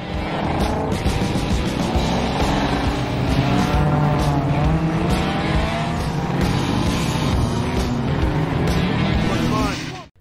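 Street race cars roar through a film race scene, engines revving loud and continuous with rising and falling pitch, tires squealing and skidding, the roar sustained for about ten seconds before cutting off.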